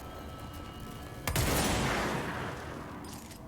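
Piercing pistol in the video game Control discharging one loud, sharp shot with a long noisy tail that lingers and fades slowly, heard up close and alone with no talking.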